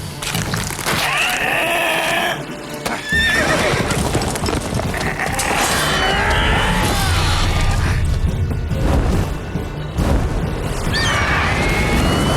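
A horse whinnies amid busy sounds from The Witcher 3: Wild Hunt: clattering hooves, crashes and shouting voices, loud and continuous throughout.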